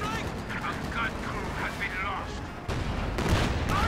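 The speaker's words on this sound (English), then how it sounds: "More shots going off." Rapid gunfire and artillery booms from a Company of Heroes 2 battle rumble continuously over a dense din of combat, growing heavier near the end, with a commentator talking over it.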